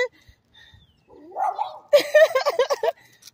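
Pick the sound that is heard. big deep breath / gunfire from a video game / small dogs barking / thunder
small dogs barking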